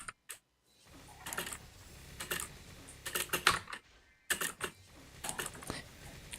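Typing on a computer keyboard with a Spanish layout: close, crisp key clicks in quick bursts separated by short pauses, with no voices.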